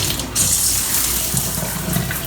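A potted euphorbia plant rinsed under a running tap to wash off sap, a steady close stream of water splashing over leaves and soil, continuous and fairly loud with small fluctuations, no voices.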